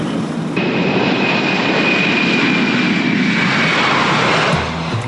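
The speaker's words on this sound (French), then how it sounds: "Lors du décollage, un 747 s'élance à plus de 280 km/h" Boeing 747 engines roaring during takeoff, a loud, steady, sustained jet roar with a thin whine running through it, close and continuous for several seconds, no talk.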